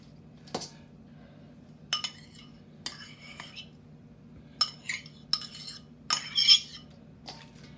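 Utensils clink against a dish while shrimp are mixed in sauce, a handful of sharp scattered metallic taps and scrapes over a faint steady background hum.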